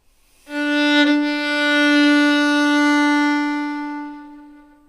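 A single bowed violin note sounds clearly and sustains for about four seconds, the open D string resonating sympathetically for a rich, full ringing tone, fading slightly at the end.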